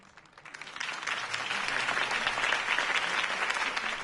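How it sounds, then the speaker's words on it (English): A crowd applauds after a campaign speech in the Batman Telltale Series video game, clapping swelling from quiet into a dense, sustained ovation that carries on to the end. "If only Mr. Wayne, my campaign's largest backer, could have heard that applause"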